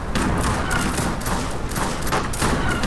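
Cannon shots in the Age of Empires 3 Wars of Liberty mod, a rapid barrage of booming impacts and battle noise pounding throughout, dense and loud.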